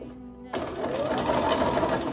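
A sewing machine stitches a small doll skirt in a steady, close, continuous whir that starts abruptly after a brief quiet moment and runs without pause.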